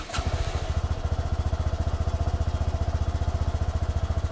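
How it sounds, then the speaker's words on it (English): A motorcycle engine starts with a quick crank at the push of the starter button, then settles into a steady, rapid idle thump that stays close and even throughout. "you push this little button and it'll start the bike"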